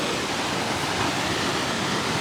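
Pistyll Rhaeadr waterfall in Wales, running high with water: a steady, loud, broadband roar of falling water with no voices.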